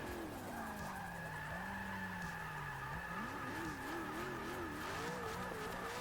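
A race car in a Formula-style racing video game at Indianapolis skids with a long, wavering tire squeal over steady engine drone, sliding and washing out for several seconds.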